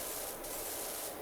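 Steady broadband hiss of a pressure washer blasting water onto dirty surfaces in PowerWash Simulator, a continuous close spray with slight surges in intensity and no talking.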